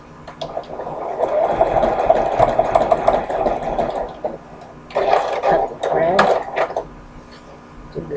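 A sewing machine runs a zigzag stitch along a fabric edge, a close mechanical whirring hum in two bursts with a pause between, alongside clicks and handling sounds.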